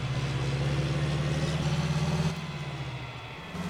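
A John Deere tractor engine idles steadily from inside the cab, a low continuous hum with a slight drop in level partway through; no voices.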